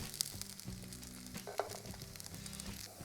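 Vegan Colombian arepas frying in a pan, with a steady close sizzle and a couple of sharp pops, under faint background music.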